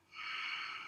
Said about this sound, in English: Breathe in, and out